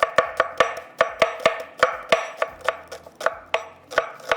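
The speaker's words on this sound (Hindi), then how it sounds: "प्याज को हम करेंगे यहाँ पर स्लाइस में कट" A knife slices onions on a cutting board. About fifteen crisp, close chops fall in a steady, fairly fast rhythm with nothing else heard.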